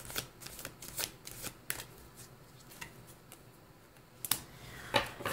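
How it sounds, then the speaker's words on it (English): Tarot cards shuffled and drawn during a reading, a string of crisp riffling flicks and snaps close up, spaced irregularly with brief pauses and a faint bright click near the end. "I'm feeling like I need to pull one more card for you"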